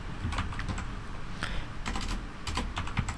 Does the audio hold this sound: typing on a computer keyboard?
yes